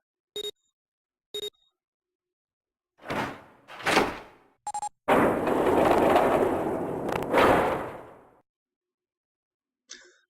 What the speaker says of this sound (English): The door had opened.